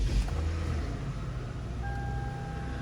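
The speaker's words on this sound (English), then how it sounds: "We need to turn on this car for the AC" A car idling steadily after being started to run its air conditioning, a continuous low engine hum with a faint tonal beep partway through.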